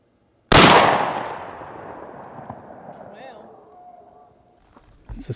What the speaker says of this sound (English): we're gonna shoot this thing, and I think it's gonna be fun because I like to shoot stuff, and I've never shot a computer